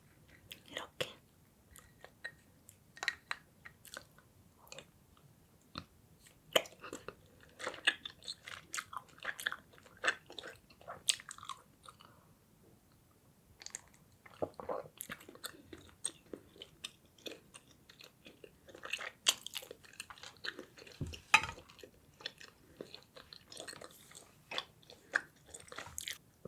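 Someone chewing chewy honey rice cakes soaked in white milk, close and intimate: soft, irregular clicks, squelches and bites scattered across a long, quiet stretch with faint breathy sounds in between.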